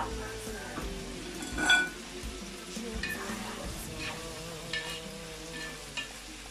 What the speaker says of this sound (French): je vais mettre mes oignons dans l'huile